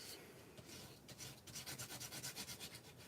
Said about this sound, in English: And then I'm going to burnish it.